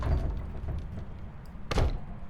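A door moved by a ghost in the Phasmophobia video game, a soft low rumble followed near the end by one sharp thud from the door, with no voices over it.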